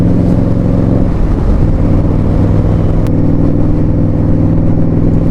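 Indian Scout Bobber motorcycle cruising steadily along country roads, its loud, continuous engine drone and rumble holding at an even pitch throughout with strong wind noise and no voices.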